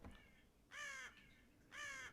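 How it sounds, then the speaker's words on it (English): A crow caws twice outside a building, two harsh, drawn-out calls about a second apart, each clear and fairly near, over a quiet background, in the horror game Death Mark. "A bird cry breaks the silence. I guess there's a crow or something outside."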